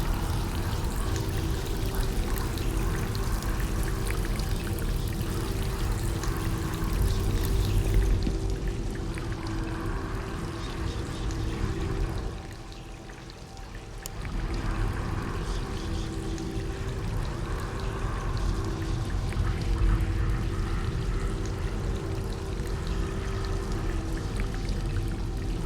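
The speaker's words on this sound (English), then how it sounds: "Any ideas how to stop the tap running?" Steady running water pours from a tap in the video game She Could Fly, a continuous broadband stream that dips briefly midway before resuming at the same level, with no voices.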